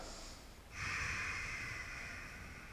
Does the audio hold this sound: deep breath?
yes